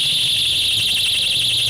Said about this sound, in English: tied to those balloons are loud-ass, obnoxious alarms